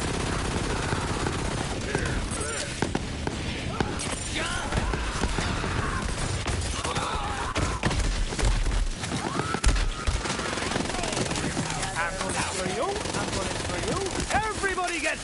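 Rapid gunfire from a weapon in the shooter game Borderlands 3, dense and continuous with layered shots, impacts and game effects throughout, mixed with background game sounds.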